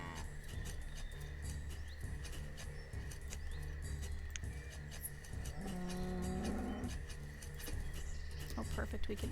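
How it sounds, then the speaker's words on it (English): A cow moos once in the town-building game Banished. The low, drawn-out call rises briefly above a steady bed of game music and ambience, and someone talks over the scene. "Send that cow over to that one."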